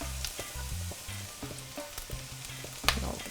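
Green onions and garlic sizzle in hot sesame oil for Chinese chicken fried rice, a steady close frying hiss broken by clicks and pops and the occasional stir, with no talking.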